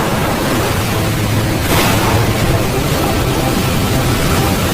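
High ocean waves rise around a boat at sea, making a steady, loud roaring wash with a brief surge partway through.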